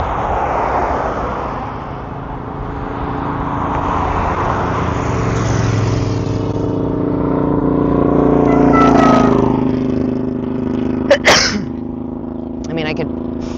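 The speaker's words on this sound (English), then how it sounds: "a lot of traffic's coming out this way" Road traffic passes by outside in San Diego, vehicles swelling and fading with a louder pass near the middle, under ongoing conversation and a couple of brief sharp clicks near the end.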